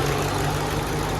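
A 2005 Ford Mustang GT V8 idles steadily up close, a continuous low rumble with an even, unbroken tone and no talking.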